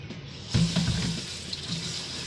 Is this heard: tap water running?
yes